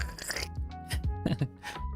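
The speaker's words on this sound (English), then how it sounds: "Now that is crunchy." Swedish knäckebröd crisp bread crunches between the teeth in several sharp bites and chews over two seconds, close and fairly loud.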